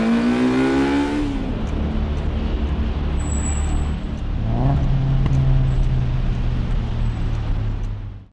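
A Dodge Charger RT and a Honda S2000 roar away, an engine revving up in a rising pitch sweep, then a second deep growl climbing as the cars pull off, loud and close with a dense roadway rumble throughout.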